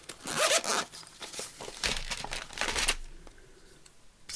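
Snips cut through a film slide ephemera piece in a few quick crisp snaps with some rustling handling between them, close and fairly quiet, no talking.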